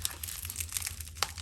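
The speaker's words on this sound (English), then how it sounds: "After the first layer of bubble wrap, we got a roll of foam" Bubble wrap crinkles and crackles in quick, close bursts as a package holding vintage Citizen watches from India is unwrapped, a busy rustle without speech.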